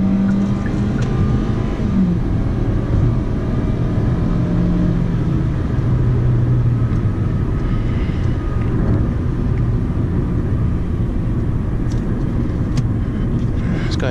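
Steady engine and road drone from a 2015 Hyundai Sonata SE making a slow U-turn, continuous and fairly loud throughout with a faint shift in engine pitch partway through.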